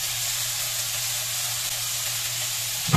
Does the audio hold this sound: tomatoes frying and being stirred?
yes